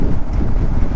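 Loud, steady wind buffeting the microphone while riding a Kawasaki KLR650 motorcycle on a dirt trail, a continuous low roar that fills the whole second.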